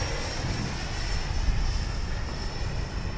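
An E-flite F-16 70mm electric ducted-fan RC jet flies overhead with a steady, loud, even roar and a thin high whine, with no talking.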